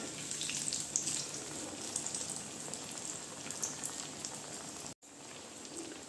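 Maggi noodle chops fry in a pan with a dense, steady sizzle that is loud and continuous. It cuts out for a moment near the end, then resumes.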